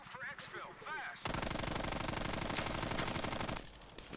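Rapid automatic gunfire from a weapon in Call of Duty Black Ops Cold War on PS5 bursts in loud and sustained for about two seconds, following a brief stretch of voices and game sound, then cuts back to quieter background.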